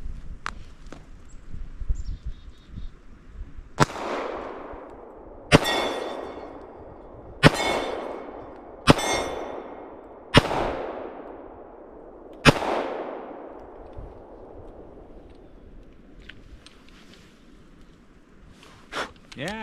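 Gunshots at a snowy, icy backyard shooting range by a cabin in Vermont: about seven sharp, loud reports spaced a second or two apart, each trailing off in a long echo outdoors.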